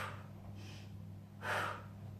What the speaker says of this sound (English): Take a breath in and out.